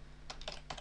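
A few soft keystrokes tapped on a computer keyboard while entering a short keyword phrase, faint and close, in three small clusters with quiet pauses between.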